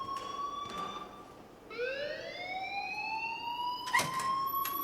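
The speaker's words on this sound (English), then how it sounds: "please turn off that alarm since that's your job" An alarm in the video game Life Is Strange wails in a rising siren-like tone, sustained and fairly loud, with a few sharp knocks and clatters around it and no talking.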